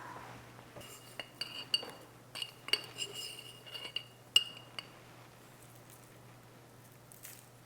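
A metal spoon clinking and scraping against a container while scooping clumpy onion powder, a series of sharp irregular taps and chinks close by over a faint hum, thinning out toward the end.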